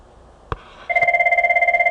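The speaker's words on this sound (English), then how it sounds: "let's have my phone ring first" A mobile phone rings with a steady electronic ringtone, a pulsing two-tone trill repeating rapidly and close by after a brief click, with no talking.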